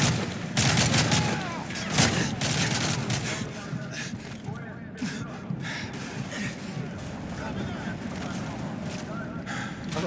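Dense, continuous gunfire from the video game Call of Duty: Modern Warfare 3, with rapid bursts and booms filling the whole stretch at close range.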